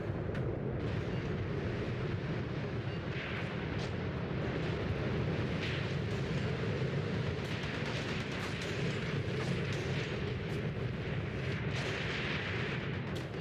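Tank battle in the World War II game Tank Warfare: Tunisia 1943, with a dense rumbling backdrop of cannon fire and explosions booming repeatedly at mid distance, steady and loud, without voices.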